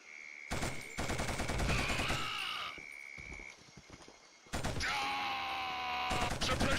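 Suppressive gunfire in the Killzone video game: bursts of automatic fire break off, resume after a brief gap and continue in loud clusters, with tonal game effects layered over the shots.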